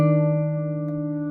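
A single fingerpicked guitar chord, with the pinky on the 4th fret of the 3rd string, rings out clearly and sustains as it slowly decays, with nothing else heard.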